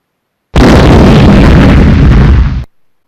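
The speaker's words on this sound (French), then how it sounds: "Il semblerait que le criquet ait explosé" A cartoon explosion goes off as a cricket blows up, a loud sudden burst that roars steadily for about two seconds and then cuts off abruptly.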